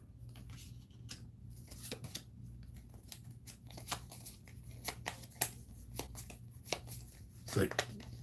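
Cards are shuffled and flicked while the Die in the Dungeon video game is played. Soft papery riffles and crisp snaps recur irregularly at low volume.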